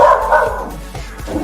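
A dog barks and yips close by in a short, busy burst with a steady low hum beneath, no talking heard.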